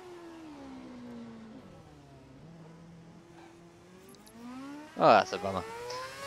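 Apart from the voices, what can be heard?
F1 car engine revving in the video game F1 2011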